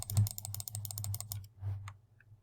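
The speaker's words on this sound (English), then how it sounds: "I'm going to click this as fast as I can" Rapid bursts of clicking while playing the Candy Crush chocolate box mini game, crisp taps in quick succession that slow and fade near the end.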